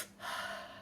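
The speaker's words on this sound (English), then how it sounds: "the conscious connected breath, a couple of those" A deep, forceful breath drawn in close, a rushing airy inhale lasting under a second during a conscious connected breathing practice.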